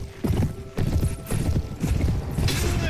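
Horse hooves clip-clopping at a riding pace in the medieval video game A Clash Of Kings, a close, uneven run of thudding beats with creaks and clatter mixed in.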